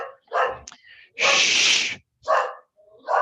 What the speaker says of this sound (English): That's my other dog.